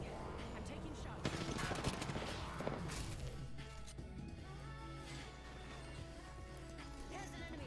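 Gunfire in Apex Legends, with quick shot bursts and impacts crowding the first few seconds, then thinning out while a player talks over the action.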